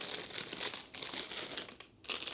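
Yarn shifts inside a plastic bag, producing close, irregular crinkling and rustling bursts with a brief pause near the end before the crackle resumes, fairly quiet overall.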